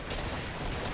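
Rapid, dense AA12 automatic shotgun fire in Killing Floor, a continuous loud burst of blasts filling the whole moment with no pause.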